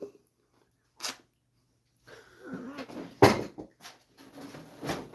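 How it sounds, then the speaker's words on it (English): A glass beer bottle gets knocked over in a woodturning workshop, a single sharp clattering knock midway, set among quieter handling bumps and rustles, close and fairly loud. "Knock my beer over."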